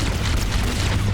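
Engine reactors exploding in Halo: CE, a loud continuous low boom and rumble with dense crackling debris throughout, no voices.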